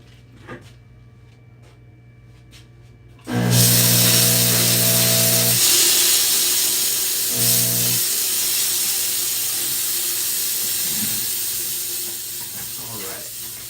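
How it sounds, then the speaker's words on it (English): Faint clicks and handling noises come first. Then a steam cleaner bursts into a loud, rushing hiss aimed at a stone during a repair, with a humming tone under the blast at two points, and the jet stays strong until the end. "let me go steam off the stone"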